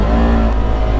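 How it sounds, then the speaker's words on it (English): Polaris RZR XP 1000 ProStar engine, a 114 horsepower 2024 XP 1000 Ultimate side-by-side, running loud and close with a steady, throaty rumble and rising revs throughout, no one talking. "ProStar engine always were on the noisy side"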